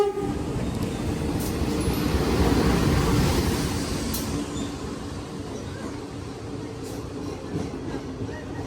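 A local commuter train in Indonesia rolls along with a steady rumble and rhythmic clatter of the rail cars, heard from inside the carriage, with faint horn toots now and then.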